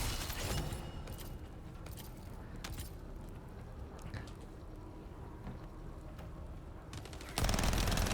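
Continuous rapid gunfire from the looter shooter The First Descendant, a dense sustained barrage with occasional sharper shots and a louder burst at the end.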